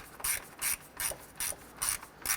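A ratchet turning plastic radiator bolts on a 2008-2012 Honda Accord, five evenly spaced bursts of rasping clicks as the bolts are snugged down, close and clear with no talk.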